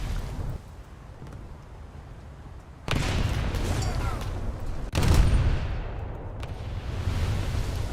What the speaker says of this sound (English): And Phoenix is shooting me.